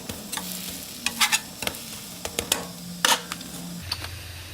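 Pikelets cook in a pan and get turned over, with a soft sizzle under a quick series of scraping spatula taps and clicks, close and fairly quiet.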